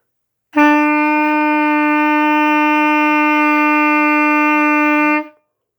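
A single sustained clarinet F note, held steady and clear for about five seconds, then released.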